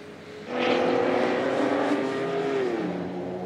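Race trucks drift around the final chicane at the Nürburgring, their engines swelling suddenly into a loud, sustained drone with a wavering pitch that settles slightly lower toward the end.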